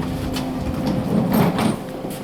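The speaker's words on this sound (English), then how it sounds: "Doors opening." Brand-new KONE Ecodisc elevator doors sliding open at Union Station in Chicago, a short smooth mechanical whir and rumble lasting about two seconds against steady hum, close and moderately loud.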